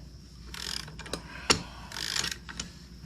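Ratchet wrench backing a bolt out of a Honda Reflex scooter's rear brake caliper: close, bursts of rapid ratcheting clicks around one sharp metallic knock, with a few scattered ticks between, no voices.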